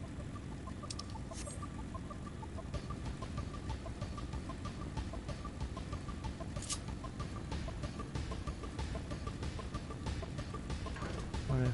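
Chickens cluck in a PS4 video game, a steady run of short repeated clucks and chatter at moderate level over a busy, continuous game soundscape.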